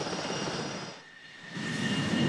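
An F-18 Hornet jet on a Navy aircraft carrier gives off a steady, broad roar with a high whine. The roar dips briefly in the middle, then swells again.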